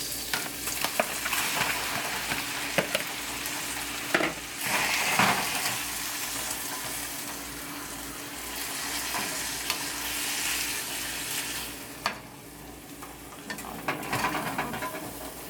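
Shrimp fry in a hot pan with a steady, dense sizzle that runs throughout, while a utensil stirs and scrapes against the pan now and then, close and continuous with no talking.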